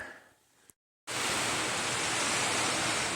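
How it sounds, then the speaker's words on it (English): Heavy rain pours down hard on the Appalachian Trail, a dense, loud, unbroken roar that starts abruptly after a moment of near silence and holds steady, with no voices. "That is coming down hard. Like a Florida monsoon right there."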